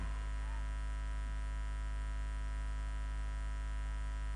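An electric fan hums steadily and quietly, a constant low electrical drone with a faint buzzy edge that never changes, with no voices.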